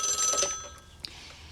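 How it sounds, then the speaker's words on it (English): A telephone rings, a bright electronic trill heard once up close before fading into a quieter room tone with a brief click. "The phone rang, and I answered it"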